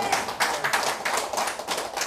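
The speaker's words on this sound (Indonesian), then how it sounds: "Berikan sorak-sorai buat Tuhan" A church congregation claps in quick, steady rhythm during worship, the sharp hand claps close and continuous with a few cheers mixed in.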